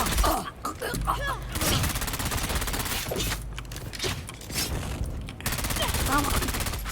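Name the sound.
gunfire from the video game Dune Awakening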